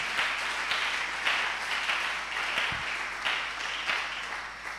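A church congregation claps together at a Pentecost service, steady rhythmic applause with no talk over it.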